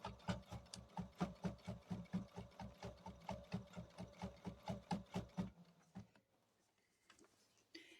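A home sewing machine stitches in the ditch along a quilt's seam lines, a fast steady run of close, even mechanical pulses for about five seconds before it abruptly stops and leaves near quiet.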